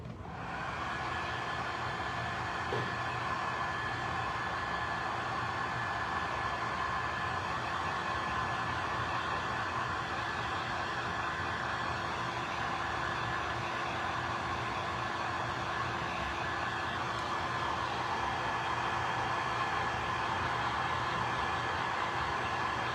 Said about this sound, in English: I use the heat gun on them real quick, just to make sure they're completely dry